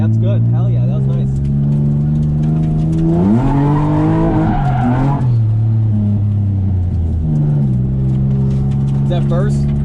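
A car drifting at a first drift event, stuck in first gear, its engine droning loud and steady while tires squeal through the slide, the pitch rising as revs climb; voices talk over it.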